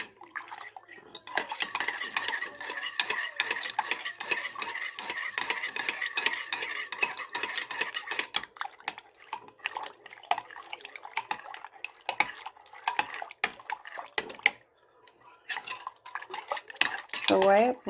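A utensil stirs yeast, sugar and butter together in a bowl to break up lumps, with steady scraping and clinking strokes against the dish that carry on throughout, up close and alone.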